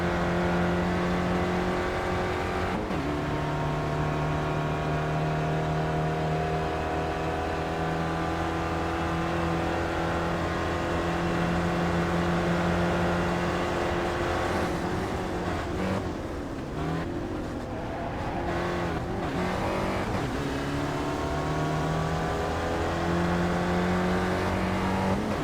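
Onboard sound of a Spec Racer Ford engine in iRacing at Summit Point, a continuous droning engine note rising and falling through gear changes, with a brief lift and rough patch before the engine pulls again.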